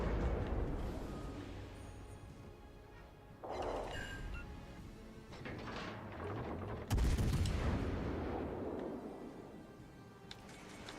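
Naval guns fire HE shells in World of Warships: Legends, heavy booming salvos with long rumbling tails over a constant low ambient drone of the sea battle.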